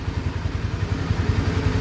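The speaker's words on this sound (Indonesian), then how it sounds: "motor ini Honda CBR 4 tak ya. Kedengaran suaranya sih." Honda CBR 150R Thailand four-stroke motorcycle engine idling, a steady close-up low putter with even rapid pulses and light mechanical clatter, no voices.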